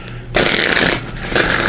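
A deck of tarot cards is shuffled close up in a sudden riffling burst after a brief quiet moment, with loud crisp rattling that dips and returns, no talk.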